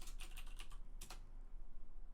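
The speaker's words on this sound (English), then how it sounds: "It's really hard to type with the mic sort of covering my view of the keyboard." Quick bursts of computer keyboard typing, a flurry of close, light clicks followed by a brief second burst, then quiet room hum.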